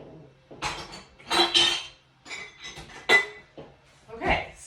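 Kitchen rummaging for a glass jar: a series of clinks and clatters of dishes and glass being moved, moderately close, in short irregular bursts with quiet gaps.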